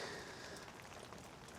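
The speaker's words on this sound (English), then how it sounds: "watch out for the rain" Steady rain patters on a surface outdoors during rear drum brake work on a Dodge W150 truck, a faint, continuous hiss with no talking.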